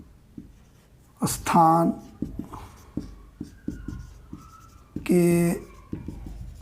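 Scratchy writing strokes on a board or paper during a Class 6 maths lesson, short rhythmic scribbles running between two louder bursts of a teacher speaking.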